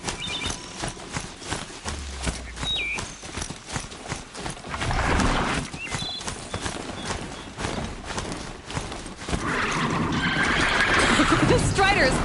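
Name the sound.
Strider machine's galloping hooves in Horizon Zero Dawn video game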